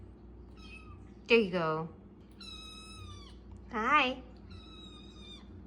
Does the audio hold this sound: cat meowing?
yes